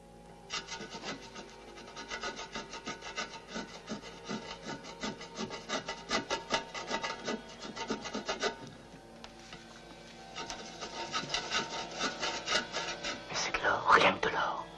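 An old, long-unused machine being scraped by hand to uncover gold, giving rapid rhythmic rasping strokes in bursts, close and fairly loud, with an excited breathy voice near the end.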